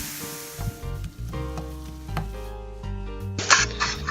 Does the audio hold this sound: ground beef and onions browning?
yes